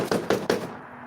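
Three quick, evenly spaced knocks on a door, sharp and fairly close, each ringing briefly before the sound fades out.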